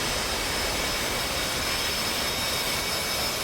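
Constant loud roar of an F/A-18C Hornet jet engine in the flight simulator DCS, a steady broadband rush with no change in level and no talk.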